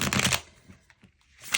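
Tarot deck being shuffled at close range: a dense burst of riffling card slaps at the start, a quiet pause with a few soft taps, then another short shuffle burst at the end.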